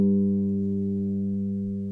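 A single acoustic guitar A string rings out alone after one pluck, a steady sustained tone slowly fading over about two seconds, heard while the guitar is being tuned down.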